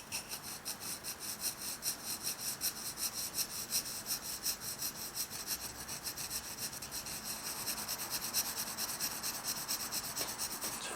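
A graphite pencil shades paper in long, rhythmic back-and-forth strokes for a beginner's pencil drawing, making a soft, close scratchy rasp that repeats at a steady pace.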